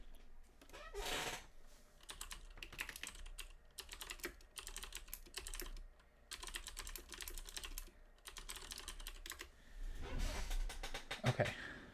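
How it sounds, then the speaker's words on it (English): Someone types on a computer keyboard in fast, uneven bursts of soft key clicks with short pauses between them. The sound is faint and close, with a couple of louder bumps and no talk over it. "Let me just type in."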